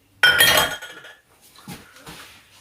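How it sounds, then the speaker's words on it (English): Dishes are washed in a pan of water: a sharp clatter of pots and cutlery clinking lands first, then softer scattered knocks and sloshing, close by and with no talking. "while the cakes are baking, I will just wash all of my dishes"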